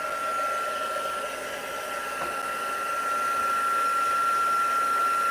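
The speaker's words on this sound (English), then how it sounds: "then we need to turn on the heat gun and turn it to the powder because we want it to get warmer" A heat gun blows hot air over shrink plastic, a constant loud whirring hiss with a faint high whine held throughout.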